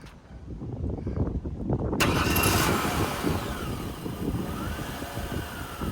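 A car at a police auction running with its engine at a steady idle, then a rising mechanical whine as it is put in gear and rolls forward, with the engine note holding close and fairly loud throughout.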